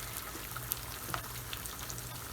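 Faint, steady sizzle of spice-infused leftover oil frying in a pan while dal rice is cooked, a soft continuous hiss with a few tiny pops and no talking.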